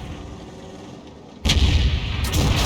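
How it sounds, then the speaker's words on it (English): A GW Panther's heavy gun fires a shell at an IS-2 in a tank video game: a sudden loud boom cuts through quiet engine rumble, followed by a second rolling blast a moment later. "Fires the round in at the IS-2, near miss for 63"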